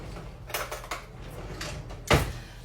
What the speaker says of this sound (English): Let me get me a spoon.